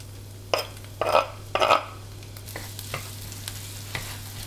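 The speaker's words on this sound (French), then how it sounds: "dans la poêle, un petit mélange classique, huile, beurre, et puis j'y mets donc mes échalotes" Shallots fry in a pan of oil and butter with a low continuous sizzle. Three louder scraping bursts from stirring come early, then fainter taps follow, with no talking.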